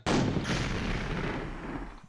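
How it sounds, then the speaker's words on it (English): A rocket launcher fired in a beta build of the Quake video game, one loud, close, booming blast that starts abruptly and rumbles out over about two seconds. "Ooh, rocket launcher. For some reason, when I shoot it here, the rocket seems to originate above my head."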